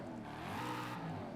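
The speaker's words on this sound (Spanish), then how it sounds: "El motor de serie, ¿cómo suena?" In Forza Horizon, the stock engine of a 2024 Mustang GT revs with a smooth rising and falling growl, steady and moderately loud across one brief sustained swell, with no talking.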